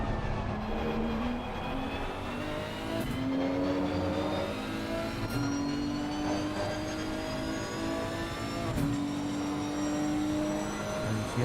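A Nissan race car in a racing game roars continuously from the onboard view, engine pitch climbing steadily through the gears with brief dips at each shift, loud and close.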